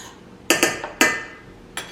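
A spoon clinks sharply against the bowl while stirring sugar into a yeasted homemade pizza dough mixture: four close, bright strikes in an uneven rhythm, with no talking.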